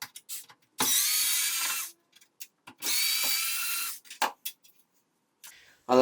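Two bursts of a power screwdriver backing screws out of a Hotpoint Ariston gas cooktop, each about a second long, close and loud, separated by small clicks and handling noises.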